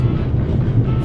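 Steady low rumble of a train running in the video game The Raven: Legacy of the Master Thief, a continuous mid-volume rolling drone with no voices over it.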